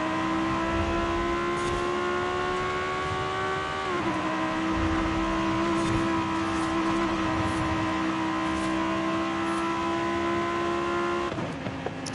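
A car engine in the racing game Forza Horizon 5 holds a steady high whine, then drops pitch abruptly in two downshifts, droning loud and close throughout with no talking.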